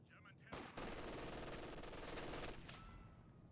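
Sustained MG42 machine gun fire rattles in the Company of Heroes 2 video game, a dense unbroken burst lasting about two seconds, loud and harsh, then trailing off into battle noise.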